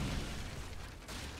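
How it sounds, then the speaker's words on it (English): Hand mortars firing in a real-time strategy game, a deep booming blast with a rumbling tail, fairly loud against the battle's background noise. "Here come the loud as fuck hand mortars."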